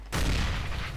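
An explosion in Counter-Strike: Global Offensive bursts in suddenly as a loud, booming blast that rumbles on for about a second without fading much.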